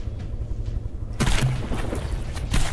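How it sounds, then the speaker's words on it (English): Rapid heavy 500mm cannon shells firing in the naval combat game From The Depths, a dense rumbling barrage of booming blasts with a sharp loud burst midway and continued pounding after. "those are 500mm shells getting pumped out at that rate of fire"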